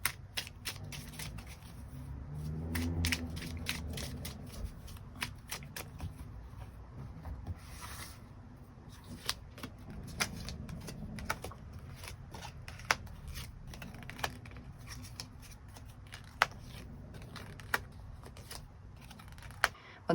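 Tarot cards are shuffled at length during a reading, a close papery riffling and rubbing with sharp snaps and taps that recur irregularly, with no talk over it.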